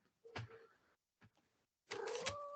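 A house cat making short vocal calls near the microphone, a brief chirp followed by a longer, rising drawn-out meow after a pause.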